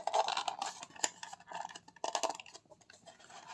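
Scissors snipping and rustling through cover material for a DIY art box, close and irregular, with several short cuts and scraping handling sounds spread across a few seconds.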